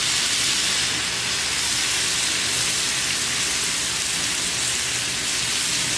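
Bacon sizzles loudly in a pan beside tomatoes, a dense, unbroken hiss of frying fat that holds steady throughout.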